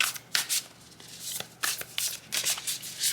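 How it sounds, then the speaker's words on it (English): Tarot cards being shuffled by hand, a run of crisp papery riffles and flutters in quick bursts, close and fairly soft, with no talking over them. "I'm going to pull some more tarot cards."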